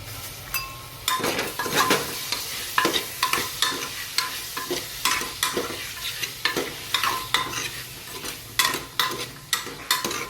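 Potatoes fry in a pan with a soft sizzle while a metal spoon stirs and scrapes them, producing repeated sharp clinks and scrapes in an uneven rhythm over the steady crackle.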